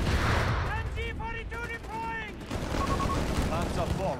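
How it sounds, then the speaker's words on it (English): Mines and explosions go off amid battlefield gunfire in Company of Heroes 3, a dense rumble of blasts and shots under a caster's running commentary. "mines going off somewhere as well here. Lots of mines, lots of explosions, lots of casualties."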